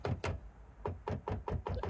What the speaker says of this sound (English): Now get the back end of the screwdriver and use that to sort of knock those studs out